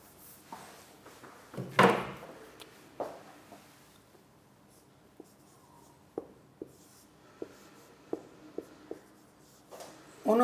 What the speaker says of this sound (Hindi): मैं लिख देता हूं आपके लिए।